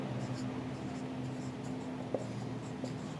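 Pen scratching on paper while solving a partnership accounts problem, a steady soft scraping texture running throughout with a couple of slightly sharper tap accents near the end.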